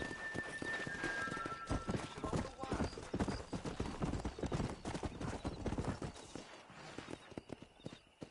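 Horses galloping in Red Dead Redemption, a steady rapid clip-clop of hooves with occasional whinnies, close and continuous under a busy in-game soundscape, fading slightly toward the end.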